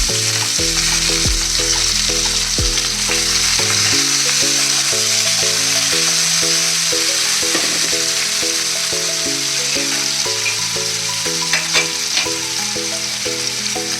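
Onions and green chillies sizzle steadily in hot oil for a green chicken dish, a continuous close frying hiss with light crackle, heard under background music with no talking.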